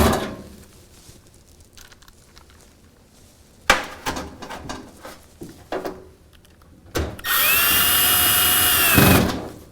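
A power drill drives screws into the back panel of an appliance, with scattered knocks and taps from fitting the panel before a loud, steady whir of the drill runs for about two seconds near the end.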